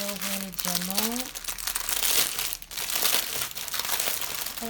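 Plastic bags of diamond painting drills being opened, a loud, continuous close-up crinkling and rustling of plastic across the whole stretch, with a brief voice near the start.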